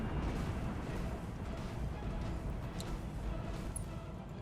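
Weapons in the Roguetech video game fire at an Orion mech, producing a continuous, heavy rumble of booms and blasts that never lets up.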